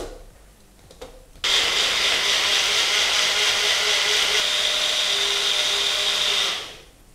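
Spice mixture for dhaba-style paneer butter masala is ground in a mixer jar, a steady loud whirring buzz that starts abruptly, holds for about five seconds alone, then winds down.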